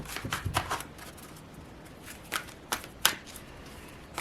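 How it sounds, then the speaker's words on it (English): A deck of Ask Your Guide oracle cards being shuffled by hand gives soft, irregular riffling and slapping bursts, close and fairly quiet, with short pauses between handfuls and no voices. "let's pull some of these Ask Your Guide Oracle cards."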